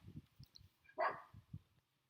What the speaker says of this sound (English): Bloody dog's barking at the neighbour's dog